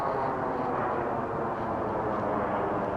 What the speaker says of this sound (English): we've got a jet flying over